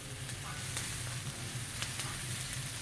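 Garlic sizzles steadily in a skillet while a spatula scrapes and stirs it through, giving a constant close frying hiss with occasional brief scraping strokes, no voices.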